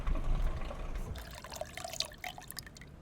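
Lemon juice poured into a drink in the video game Syberia: a short liquid trickle with dripping splashes, fairly close and clear, with no talk over it.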